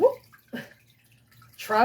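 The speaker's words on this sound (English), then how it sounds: "just let the water drain for a little bit" Water drains and splashes from a papermaking mould in short bursts, separated by near silence. A voice speaks at the end.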